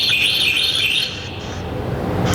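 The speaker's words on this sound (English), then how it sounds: "Is that a bird?" Bird chirps repeat in a steady high twittering, close and clear, heard from a room in a house, with low background rumble and no speech.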